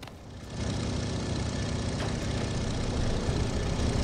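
Tractor engine in Farming Simulator 15 running steadily at a low, even idle, a continuous rumbling drone that stays close and unchanging, with no talk over it.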